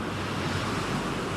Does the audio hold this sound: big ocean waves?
yes